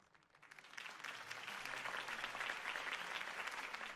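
A campaign rally crowd for Harvey Dent bursts into applause, swelling over the first second into dense, sustained clapping that stays loud and steady throughout.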